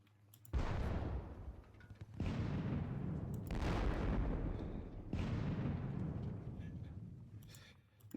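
Artillery guns in a Napoleonic war video game fire four heavy booms, each a loud blast trailing into a long rumbling decay, spaced a couple of seconds apart.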